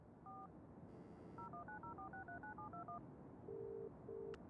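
A telephone keypad being dialed in Broken Sword, a quick run of clear beeping tones, one after another, ending in two longer ringing tones, all faint over a quiet hiss.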